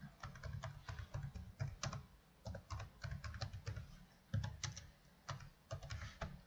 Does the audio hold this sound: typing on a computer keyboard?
yes